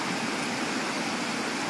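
Strong, fast-flowing stream water rushes in a dense, steady wash at close range, with no voices, in a countryside spot where wild betta fish are caught.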